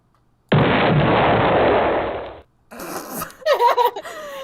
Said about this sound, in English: It's the Deltarune explosion thing.